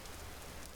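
Rain patters steadily on surfaces in the survival game Vintage Story, a faint, even hiss of drops with no talk.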